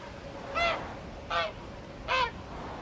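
Three clear, nasal honks from a single goose approaching across ice fields, evenly spaced about three-quarters of a second apart, moderately close and distinct above a low steady background hiss.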